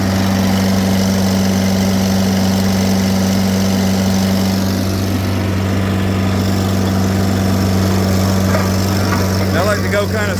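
Steady, loud drone of an old vibrating plate compactor working slowly over gravel, with someone talking over the engine noise throughout.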